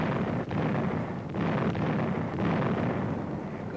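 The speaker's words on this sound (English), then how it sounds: "There goes Jerry's gun." A German gun fires in a World War II film, a dull distant boom rolling under wind and low rumble, followed by more faint thuds.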